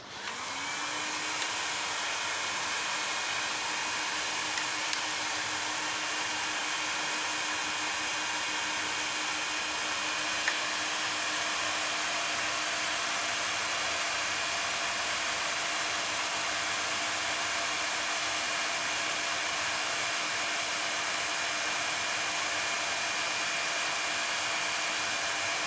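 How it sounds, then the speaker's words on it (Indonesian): The cooling fan of a 3000 W low-frequency inverter runs under a load of about 3100 to 3200 W, a steady, loud whooshing whir that holds constant throughout with a faint underlying hum. "di sini kita akan ujikan di beban 3100 watan lebih atau 3200 watan lebih, dan kita tunggu hingga kipas atau fan-nya berputar ya"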